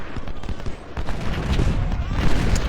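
Massed musket volleys and artillery fire from a Civil War battle in Ultimate General: Civil War, the Mule Shoe, as a dense, continuous crackle of shots with heavier thumps, steady and fairly loud throughout.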